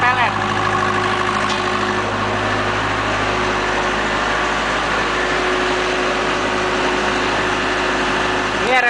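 A Multipro SDG 30000 AS generator engine runs at a steady, loud, even drone, with constant mechanical hum and no breaks from start to finish.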